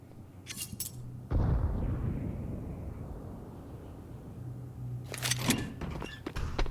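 Rifle gunfire in a Counter-Strike match: sharp cracking bursts at the start and again near the end, with a loud blast-like rumble in between that slowly tails off, and no voices.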